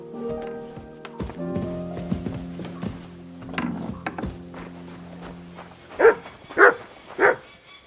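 Three loud, close dog barks from a dog in the game Kingdom Come ring out near the end, following a stretch of layered game ambience and thuds.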